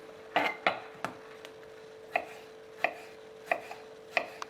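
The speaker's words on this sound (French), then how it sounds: "Là, je coupe des plus gros morceaux pour en garder dans de la ratatouille." A knife chops vegetables for ratatouille into large pieces on a cutting board, sharp knocks coming in irregular pairs and singles, close and clear over a faint steady hum, with no talking.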